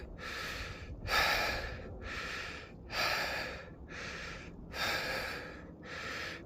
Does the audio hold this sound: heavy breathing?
yes